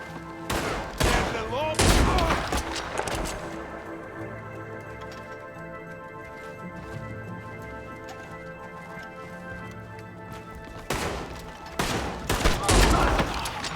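Springfield rifle gunfire in the Western game Red Dead Redemption 2: sharp, loud cracks come in clusters near the start and again near the end, with game ambience in between.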